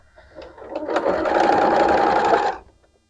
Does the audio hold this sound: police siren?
no